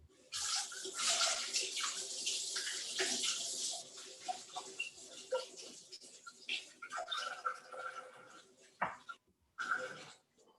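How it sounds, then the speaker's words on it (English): Sticky fingers rinsed under running tap water, a close, steady splashing stream that breaks into a few shorter bursts toward the end. "I moistened them up a bit, cleaned them off."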